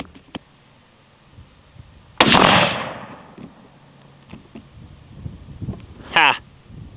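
A single loud, sharp rifle crack from a Remington rifle rings out with a decaying tail, then later comes a short, sharper burst. Outdoors, with sparse quiet sounds in between.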